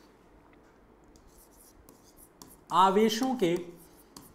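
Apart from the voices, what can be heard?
writing on a board during a physics lesson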